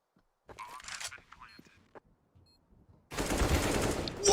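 A Counter-Strike (CS:GO) match on the Nuke map: after a stretch of quiet, scattered sounds, a loud, dense rifle spray erupts and keeps firing rapidly until the end.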